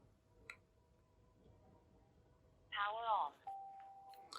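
Tribit XFree Tune wireless headphones power on with a short rising electronic chime followed by a steady single beep tone, clean and fairly faint against a quiet room, after a small click.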